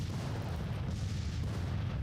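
An artillery battery firing in the Civil War strategy game Grand Tactician, a deep, continuous low rumble of cannon booms and distant battle noise with no clear separate shots.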